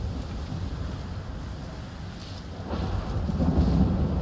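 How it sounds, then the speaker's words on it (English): Rain pours steadily during a thunderstorm in Stalker 2: Heart of Chornobyl, while low thunder rumbles underneath and swells louder toward the end, with no one talking. "This storm was one of the worst I've seen"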